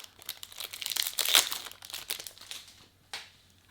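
Crinkling of a plastic pack of football magazine cards being torn open, close and fairly faint, with a brighter burst of crackle midway and a final sharp rip near the end.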